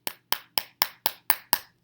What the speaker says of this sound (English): what I'm doing is just kind of banging these pieces down flat